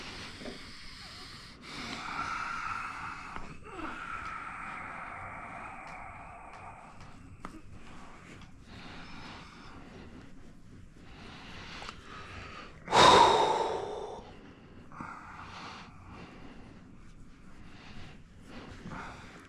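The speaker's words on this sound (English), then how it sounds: "Big breath." Slow, deep breaths drawn in and let out during a face, head and neck massage, with one sharp loud inhale or snort partway through, close and otherwise quiet, with no talking.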